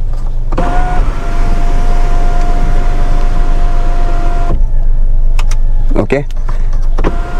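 The electric sunroof of a Kia Syros motors open inside the car, a loud, steady whirring drone lasting about four seconds before it stops with a clunk, followed by a short spoken word and faint cabin clicks.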